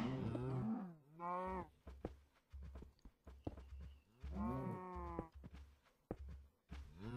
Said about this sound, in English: Look at that cow, running away trying to avoid his fate.